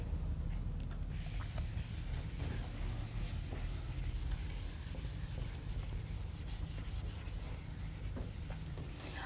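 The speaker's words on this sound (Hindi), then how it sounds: "चलिए इसे रब कर देती हूं मैं" A duster rubs chalk or marker writing off a classroom board during a digital electronics lesson, making a steady, close, continuous scrubbing rasp with no talk.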